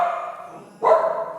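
Dogs bark in a brief burst partway through, a little removed and muffled under a steady hum of background noise.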